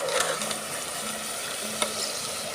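Chebakia dough sizzles and crackles steadily in hot oil in a pan, a continuous close frying hiss with occasional stirring clinks and no voices.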